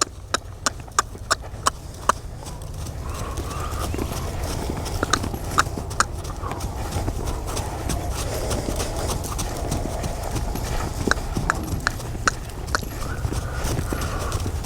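Horse hooves clip-clop on the ground in a steady trotting rhythm while the horse is lunged in a circle, clear against low outdoor rumble with a few faint voices.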